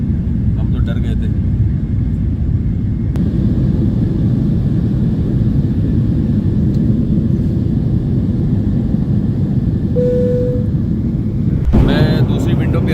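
Steady low roar of airliner cabin noise in flight, loud and unbroken throughout, with a brief chime and some rustling near the end and a voice talking in Hindi over it.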